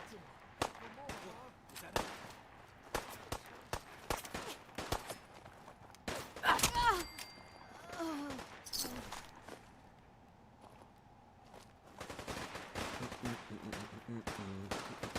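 Gunfire in the video game Fallout 4, scattered sharp shots and short bursts rattling throughout, some loud and close, others fainter, with footsteps and game sounds between and a voice speaking in places.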